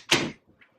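A door swings open as a dog pushes it with her paw, giving one short, fairly loud knock and creak up close, then a couple of faint taps.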